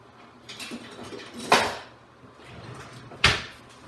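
A spatula stirs celery and leeks in a cooking pot, giving two sharp scraping knocks against the metal amid soft shuffling and clinks, close and fairly quiet.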